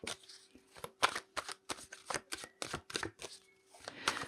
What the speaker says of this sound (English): Let's pull some more cards for you.